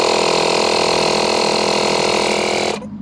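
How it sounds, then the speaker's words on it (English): A Makita cordless 18V inflator compressor pumps a tyre to 36 psi, a loud steady mechanical buzz with a constant whine that cuts off abruptly near the end, leaving quieter background noise. "I'm going to set my compressor to 36 psi, then we pull the trigger."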